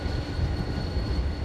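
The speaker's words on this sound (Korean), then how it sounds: "객차와 합쳐진 기차는 용산과 서울역에서 승객들을 태운 다음 전국 방방곡곡으로 오늘도 힘차게 달리고" A train rumbles steadily along the rails near Suseok rail yard in Seoul, a continuous low heavy roar with a faint high whine riding over it and no voices.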